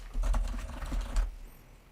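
Rapid clicking keystrokes on a computer keyboard, a quick close burst of typing that stops about two-thirds of the way through, leaving quiet room tone.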